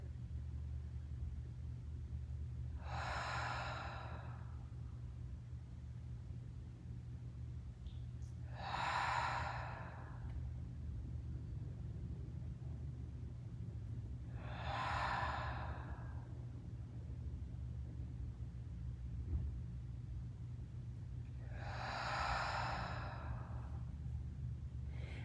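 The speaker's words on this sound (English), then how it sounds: "let's take 4 deep breaths into the diaphragm just like we started" Four slow, deep diaphragm breaths at the close of a slow-flow yoga session, each a soft airy inhale-exhale spaced several seconds apart over a steady low background rumble, no talking.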